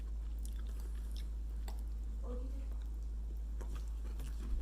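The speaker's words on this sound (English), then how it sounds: "The crunch from the jalapeno chips, that's pretty good" Crunchy cheesy jalapeno Cheetos chips being chewed, with sparse crisp crunches and bites over a steady low hum, quiet and close.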